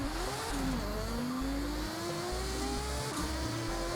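Drag-tuned car in Forza Horizon 6 launching hard, its engine revving up through rising pitch with audible gear shifts, a loud continuous roar throughout.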